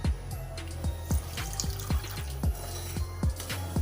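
Milk is poured into semolina in a kadhai, a steady liquid stream with repeated low gurgling plops in an even rhythm, close and moderately loud with no talk.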